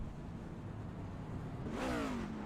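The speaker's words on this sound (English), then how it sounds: "he downshifted and got on the gas" A race car in a racing video game at Charlotte Motor Speedway downshifts and then accelerates, its engine note rising and sweeping as it gets back on the gas over a steady background drone.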